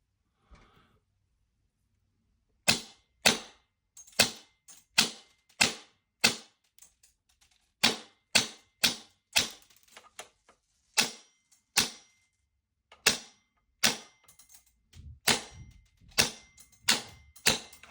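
Wolverine Fossil Dig-1 gun fired repeatedly through a chronograph, about twenty sharp, loud cracks in quick, irregular succession, each a short snap with a fast decay and brief quiet gaps between.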